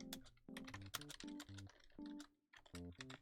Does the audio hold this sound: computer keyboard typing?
yes